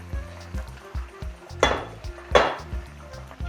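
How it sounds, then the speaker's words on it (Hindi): Chunks of Lahori deghi chargha chicken frying in a pot and being turned, with metal clanks and scraping over a low sizzle and two louder clatters midway. "यहाँ पर हमारे पास चरगा फ्राई हो रहा है"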